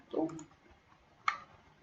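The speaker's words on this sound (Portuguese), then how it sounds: "Vou dar vários cliques aqui de um lado" Computer mouse clicks while working in V-Ray rendering software: two short, faint clicks about a second apart, with soft, muffled background sound.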